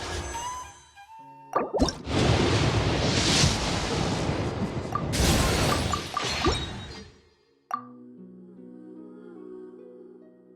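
Surfing over ocean waves in Genshin Impact, with a rushing, splashing wash of water that swells and recedes for several seconds, punctuated by sharp plops, then cuts off into calm tonal game music.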